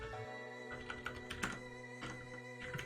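Fingers type steadily on a computer keyboard during a Python coding session: close, quiet, irregular key clicks over a faint steady hum.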